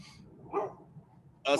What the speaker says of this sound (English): I have to get my dog. He's barking.